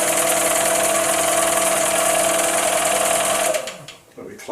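A Chinese mini lathe spins at high speed with an empty chuck, giving a loud, steady mechanical whine and hum for about four seconds before spinning down and fading.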